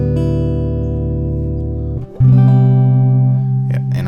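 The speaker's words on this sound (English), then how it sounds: "Your lowest E string is tuned to D." An acoustic guitar's low string, dropped from E to D, is plucked open and rings as a steady sustained low note, then is struck again about two seconds in and rings on, close and loud.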